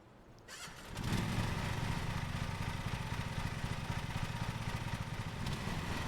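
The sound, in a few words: lawn mower engine running in Lawn Mowing Simulator video game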